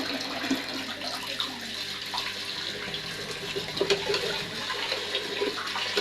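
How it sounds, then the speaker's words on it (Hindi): Whole masoor lentils are washed in running water, with a steady splashing gush like a filling sink and faint sloshes and rattles of grains in the stream. "पहले जल्दी से दाल को अच्छे से धो लेते हैं"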